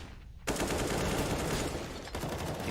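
Sustained automatic gunfire in the Counter-Strike video game on the Mirage map, a dense continuous burst starting abruptly after a short quiet lead-in, loud and close, with a brief dip near the end before firing resumes.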